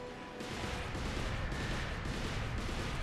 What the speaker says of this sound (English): just keep throwing your grenades, keep shooting them with whatever guns you want